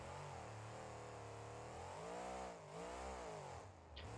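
A monster truck engine in BeamNG.Drive Monster Jam, a CRD BLZ 3.0 with a naturally aspirated swap, revs loud and close, its pitch swelling and sagging with a brief dip midway before climbing again.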